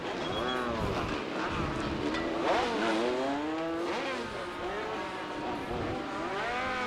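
Race cars at Sauble Speedway during an APC Series 100-lap stock car race, several engines revving and sweeping through a corner where the 04 car spins, pitch rising and falling steadily over a constant roar.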